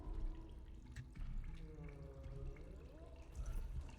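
Water runs and trickles in the sci-fi horror game Routine, a steady splashing flow close by with gurgling, bubbly ripples rising and falling over a low ambient hum.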